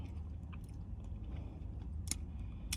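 Ice being chewed and crunched in the mouth, a steady run of close, soft crunching and squishing bites with a couple of sharper cracks near the end, no talking.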